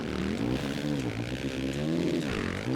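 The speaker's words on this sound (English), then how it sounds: "That time I did a double tap on the" A 450 motocross bike engine in MX vs. ATV All Out, a steady buzzing drone with the revs swelling and dropping in a couple of throttle blips, close and consistent in level.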